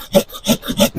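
Saw cutting through the main stem of a coffee tree during pruning, three loud rhythmic rasping strokes close by with no talk.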